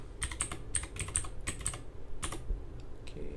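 Keys clack on a Redragon Kumara K552 LED mechanical budget gaming keyboard, a close, crisp series of separate presses in uneven bursts, then a few lighter taps toward the end.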